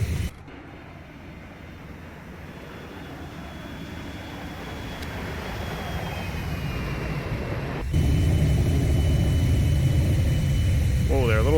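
A Boeing 737 Classic airliner in a flight simulator rolls for takeoff, a steady jet engine roar building gradually and stepping louder near the end, with a faint tone sweep at the close.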